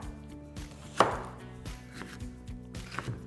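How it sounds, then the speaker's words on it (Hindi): A knife chops a radish into thick pieces on a board, giving a series of distinct, evenly spaced thuds, with one louder cut near the start. "इस तरीके से थोड़ा मोटा मोटा मूली को काट लेंगे"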